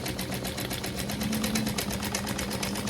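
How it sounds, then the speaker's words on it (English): A sewing machine runs steadily and rapidly while stitching around a strip of Velcro, with a loud, close, continuous mechanical whir and no voices. "I'm just going to sew around the Velcro"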